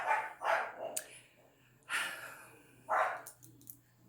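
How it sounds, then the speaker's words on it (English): A dog barks loudly and repeatedly nearby, four or five sharp full barks in an uneven rhythm with short quiet gaps between them. "also my dog barking his head off"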